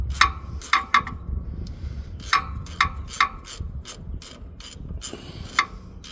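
A ratchet with a 13 mm socket clicks in short, repeated bursts while loosening a starter bolt on a 2017 RAM 1500, sharp metallic pawl ticks close up with brief pauses between strokes.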